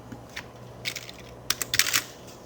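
Fingers typing numbers on a computer keyboard, a few soft isolated key taps followed by a quicker burst of clicks, close and quiet with no talk.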